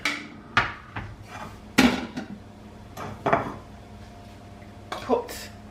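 Beans spooned into a casserole dish, with scattered clinks and knocks of a spoon against the dish and soft wet plops at irregular intervals, close by.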